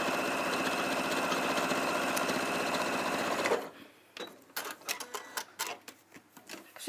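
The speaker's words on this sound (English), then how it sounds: "I'm just going to sew down each side of the bag, of the strap" A sewing machine runs in a steady, continuous mechanical whir as it stitches a cotton canvas bag strap, then stops abruptly partway through, leaving scattered handling clicks and taps.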